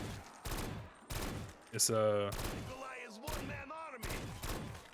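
An MG08 machine gun fires in a video game on a tower map, with several dense bursts of rapid automatic fire under a voice.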